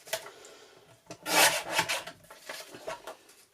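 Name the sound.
trimming a printed digital kit sticker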